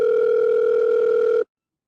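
A telephone dial tone as a call is placed, a steady loud two-note hum lasting about a second and a half before cutting off abruptly into silence.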